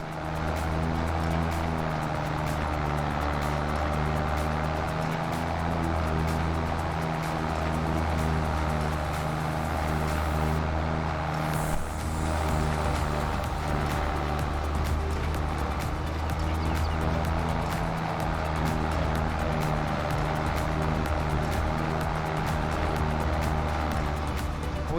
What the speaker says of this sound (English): Tractor. Yeah, the New Holland might have struggled a little bit coming up here.